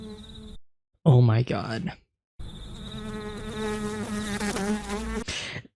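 Housefly buzzing in the Breaking Bad episode Fly, a close, whining drone that cuts in and out, rising and swooping in pitch; a voice exclaims briefly partway through.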